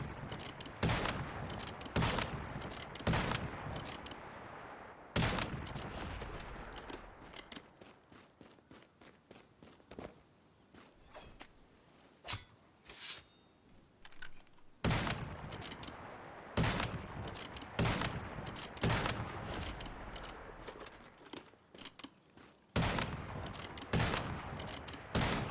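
Rapid sniper rifle fire in the survival shooter Once Human, sharp loud shots in fast bursts with brief pauses between volleys, with footsteps and no talking.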